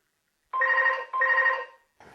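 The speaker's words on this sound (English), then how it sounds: "try to remember to mute the phone next time." A phone rings in a quiet room: two long electronic trilling bursts close together, loud and clear, followed by a brief start of a third before it cuts off.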